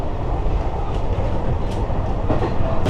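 Train running near Isahaya station on the Shinkansen line, a steady rumbling roar with faint rhythmic clacks and no voices.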